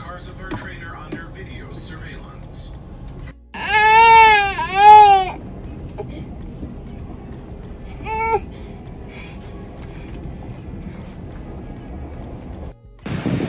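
An infant wails on a train in two distinct bursts: a loud, rising and falling cry lasting nearly two seconds, then a shorter whimper a few seconds later. Quiet background noise from the carriage fills the gaps.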